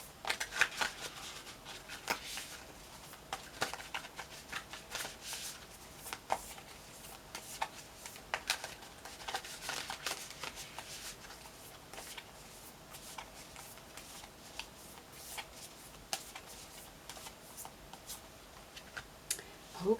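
Tarot-style spirit animal cards shuffled close up, a steady run of soft papery riffles and flicks lasting the whole stretch with faint background hum and no voice.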